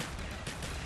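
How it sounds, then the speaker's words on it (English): Gunfire from shooting zombies in the Nazi Zombies level Shi no Numa: a steady, dense burst of rapid shots with no break, loud and up close. "Let's just shoot all those zombies over there."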